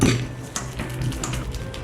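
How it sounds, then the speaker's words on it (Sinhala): Ripe bananas being mashed with a hand masher in a bowl for banana cake batter, giving soft squelching presses and light clinks of metal against the bowl, steady and close with no talking. "මම දැන් කෙසෙල් ගෙඩි ටික ස්මෑෂ් කරගන්නවා"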